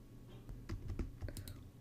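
A computer keyboard being typed on, a short cluster of a few light, close clicks and taps over a low steady hum.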